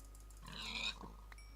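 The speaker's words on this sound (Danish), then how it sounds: "Hold op, der er mange grise." Minecraft pigs oink and grunt in a short burst of snorting squeals, fairly close and steady, fading into quieter ambience.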